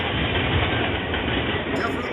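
A CSX freight train rolls past close by as a loud, steady, continuous rumble and roar that holds for the whole stretch.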